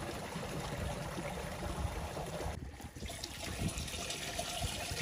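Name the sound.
water filling a sprayer tank to half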